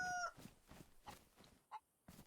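Chicken in DayZ, a few scattered faint clucks with quiet gaps between them and one sharper cluck near the end.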